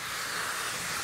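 Steam cleaner blowing a steady, fairly soft hiss of steam onto a wooden countertop, held in one spot, with no voices.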